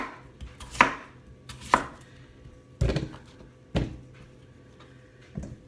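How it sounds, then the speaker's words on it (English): Knife chopping through potatoes into thick slices on a board, five distinct, fairly loud thuds at irregular intervals with quiet pauses between, no talking. "I'm going to cut some potato in like thick slices to go on the base of the pot"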